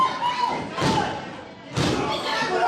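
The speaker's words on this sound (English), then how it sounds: "What a clothesline, knocking LSG through a loop." A professional wrestler takes a clothesline and crashes onto the ring mat, giving two heavy thuds about a second apart over an ongoing crowd and live commentary.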